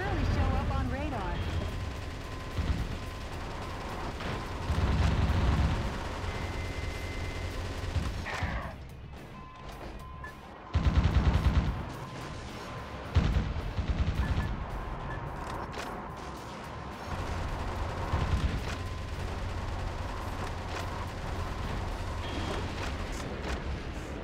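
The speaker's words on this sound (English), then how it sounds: "Shooting tanks with guns!" Gunfire against tanks in the mech action game Metal Wolf Chaos XD, with dense bursts of shots and explosive crashes over game music, broken by brief quieter gaps, with talk over parts of it.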